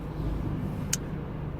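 Steady broadband rumble of a car driving on the road, heard from inside, with a brief hiss near the end and no talking.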